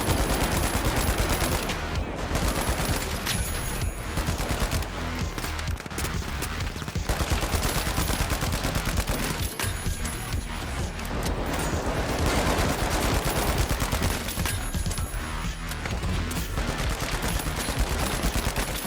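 FCAR battle rifle fire in the shooter game The Finals, modelled on the SCAR, comes as loud, continuous rapid bursts across the whole stretch, with brief pauses between volleys.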